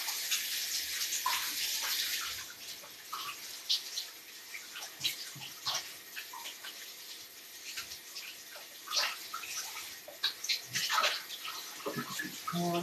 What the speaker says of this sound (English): I'm going to go just wash my hands